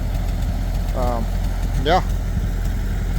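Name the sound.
tractor engine running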